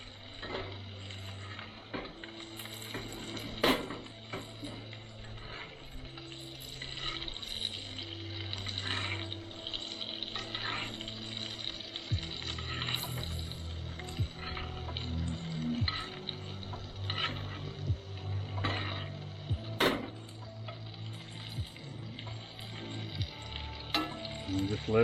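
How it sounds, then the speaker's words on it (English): Fish fries in butter with onion in a pan over a campfire at a snowy spring camp, giving a dense, continuous sizzle. Crackles and occasional sharp pops come through a low, steady hum. "Let the fish just soak in all the flavoring, all the butter."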